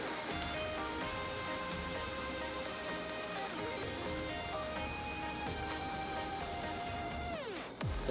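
Thin pancake batter frying in a pan, a steady close sizzle with fine crackling texture that continues evenly throughout and fades out at the end.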